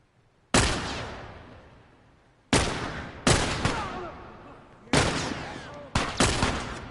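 Enemy gunfire in The Last of Us video game: several sharp, loud single shots with ringing echoing tails, spaced irregularly and some in quick pairs, against a quiet background.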